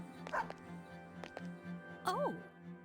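A dog named Koromaru in the game Persona 3 lets out short barks and a rising whine in a quiet, steady game-audio scene with a low hum underneath.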